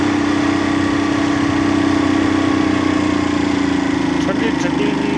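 Motorcycle engine running steadily on a cold, snowy mountain road in Bagh, Azad Kashmir, a constant droning hum with a strong low tone, close and loud, no breaks in the sound.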